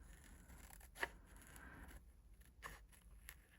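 Scissors cut around a printed paper penguin image in a few faint, close snips separated by quiet pauses.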